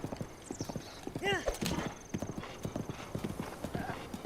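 A horse's hooves clip-clop in a steady rhythm in Breath of the Wild, with a brief neigh near the start, while someone talks over the hoofbeats.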